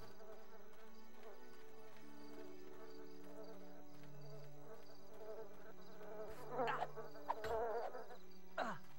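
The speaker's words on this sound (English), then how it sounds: "I'm being attacked by a bee." A bee buzzes in the Lord of the Rings Fellowship of the Ring Xbox video game, a wavering drone over background game music, swelling louder in a few sharp passes near the end.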